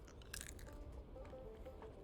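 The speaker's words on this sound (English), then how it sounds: "It's got these nuts that I've been chewing on." A player character crunching on cashew nuts in Fallout 76, giving brief crisp bites and chewing crunches, close and fairly quiet, with no talk.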